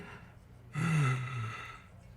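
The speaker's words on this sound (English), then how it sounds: "he's sweating profusely and he has difficulty breathing" A nervous man in the Disco Elysium video game breathes heavily with difficulty, one strained, drawn-out gasping exhale near and fairly loud against a low background hum.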